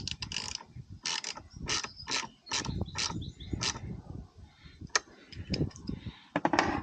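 A hand ratchet tightens a bolt during battery replacement on a Lincoln Aviator / Ford Explorer, giving close, rapid bursts of clicking strokes in an uneven rhythm with brief pauses between pulls.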